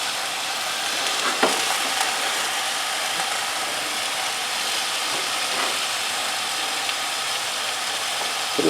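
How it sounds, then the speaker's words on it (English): Skin of a spatchcocked turkey sears in a hot pan with a loud, steady sizzle and crackle, close up, broken by a few faint clunks of the bird being pressed and moved. "So the skin is searing."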